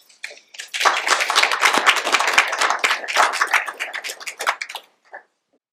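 Audience applause welcoming Dr. Grenda to the podium at an academic medical meeting affiliated with Sidney Kimmel Medical College in Philadelphia: a dense, sustained wash of many hands clapping for about five seconds, then tapering off.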